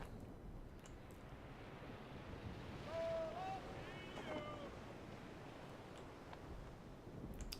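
A sailing ship crosses ocean waves in the video game Sid Meier's Pirates!, a steady wash of surf and wind roaring throughout, with a faint voice briefly in the background.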